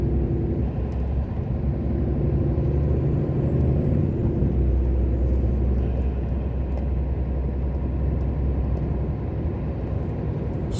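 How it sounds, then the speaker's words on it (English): Road traffic at school pick-up time, a continuous loud rumble of cars passing close by with a steady low engine drone and no talking. "It's amazing how much more traffic there is on the road when it's kicking out at school time"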